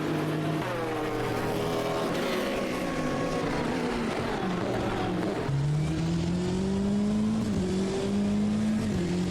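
Race cars at the Sebring 12 Hours drone past, a hypercar working through slower GT cars, several engine notes rising and falling over one another in a continuous loud roar with a sharper pitch shift midway.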